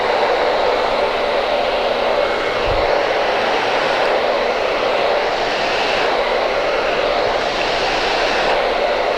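A hair dryer running at high power during a haircutting show blows a steady, loud, broadband whoosh that holds constant from start to finish, with no talk over it.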